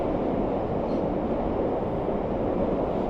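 A Moscow metro train riding underground, a steady loud rumble of wheels and carriage noise in the tunnel, continuous with no talk.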